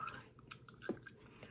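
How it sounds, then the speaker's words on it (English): Gum being chewed close to the mouth in a retail office setting, giving soft, wet, irregular smacking and squishing sounds over a short stretch, faint and alone without talk. "they're chewing gum like this"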